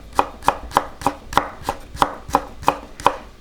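A knife slices onions thin on a cutting board, eleven crisp, evenly spaced chops at a quick steady rhythm, close and clear with no talking.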